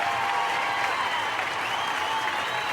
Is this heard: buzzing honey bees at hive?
no